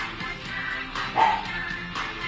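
Small chihuahua dogs bark and yip in the distance, a few sharp calls rising over steady background noise, with one louder bark in the middle.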